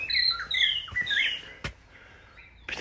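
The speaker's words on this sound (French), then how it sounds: "Putain, les oiseaux ils se réveillent." Several birds chirp and tweet at dawn, bright repeated calls fairly near, with a brief sharp knock partway through.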